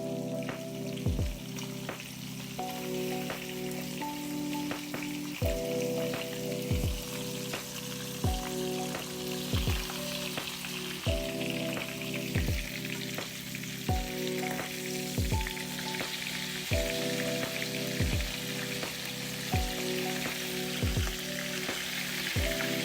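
Chopped onion and garlic sizzle in melted butter in a pot. A steady frying hiss holds throughout, broken by regular clinks and stirring taps, with music playing over it and no talk.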